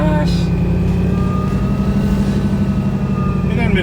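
Supercharged 4.5 liter Whipple engine in a Ringbrothers Javelin runs with a loud, steady low rumble and whine throughout, voices talking over it.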